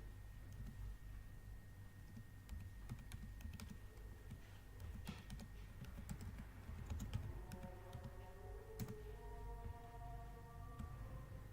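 Steady typing on a computer keyboard while entering a chemical name into ChemDraw software, a continuous run of close, light key clicks over a low background hum, with no voices.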